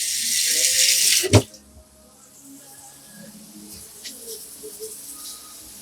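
Water runs from a kitchen sink tap while a very sharp knife is washed by hand, a steady broadband hiss for the first second or so ending with a sharp clunk, then quiet room tone with faint small clinks.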